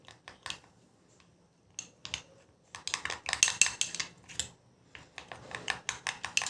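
A spoon scrapes and clinks against a bowl while mixing gram flour with cucumber for a face mask, giving irregular, close bursts of tapping and scraping with short pauses, no talk.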